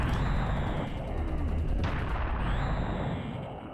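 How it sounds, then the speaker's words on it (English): A minigun fires in Serious Sam: The First Encounter, a dense, rapid, continuous stream of shots that stays loud and fades slightly toward the end. "I'm combining my weapons, especially like this minigun"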